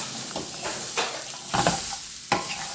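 Brown chickpea salad being stirred and tossed in a bowl, giving a few soft, scraping mixing strokes at an irregular pace, close up with no talking.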